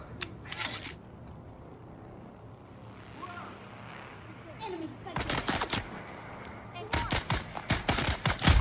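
Pulse rifles fire in the video game Dune: Awakening as rapid automatic bursts, loud and close, with a short burst at the start and longer sustained volleys near the end. Quieter gaps fall between the bursts.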